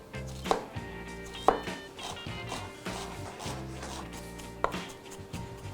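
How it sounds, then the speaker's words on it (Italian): An onion is chopped finely with a knife on a cutting board for a traditional pasta alla norcina, with steady rhythmic knife taps and a few sharper louder strikes, close up. "la trito finemente"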